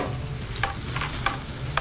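Marinated chicken sizzles steadily in two pans, a close, even hiss with a few soft stirring or scraping taps and no voices.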